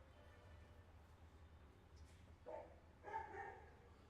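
A dog barks in two short bursts, fairly faint and somewhat distant, over a steady low background hum.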